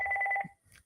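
A telephone rings in one short trilling burst of rapid pulsing bell tones, then a faint second chirp follows after a brief gap.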